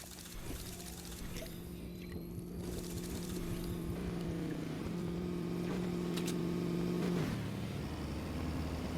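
Trucks driving in the video game Fortnite, a steady engine drone that rises in pitch as they accelerate and then drops, with a dense mix of game sounds around it.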